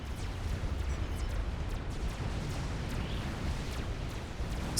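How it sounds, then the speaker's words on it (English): A Monkey Lord unit blows up in a large 6v6 real-time strategy battle, heard as a dense, rumbling wash of explosions and booming artillery that stays loud and continuous throughout, with no clear single blast standing out. "I've just heard our first Monkey Lord going bang."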